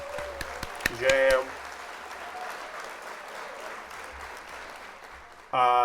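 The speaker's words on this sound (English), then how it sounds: "We got to hit that applause there." During a livestreamed Lego building workshop, a canned applause sound effect plays as a steady wash of clapping for several seconds, framed by bright chime tones at the start and end, with a voice talking near the beginning.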